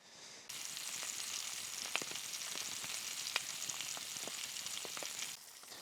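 Four sausages sizzle steadily in a pan at a lakeside canoe campsite, a continuous close frying hiss with small pops and crackles, with no talking.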